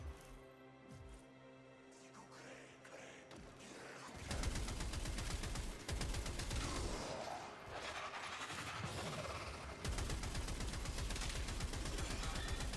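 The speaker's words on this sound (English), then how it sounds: "I'm gonna keep firing. I got a 200 magazine." Sustained automatic gunfire from a 200-round magazine in the video game Warframe, a dense rapid stream of loud shots starting after a quieter stretch of a few single shots and continuing almost unbroken to the end.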